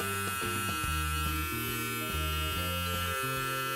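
A Braun Shave & Style electric shaver runs close up with a steady, continuous buzzing hum that holds level throughout, under background music and with no talk.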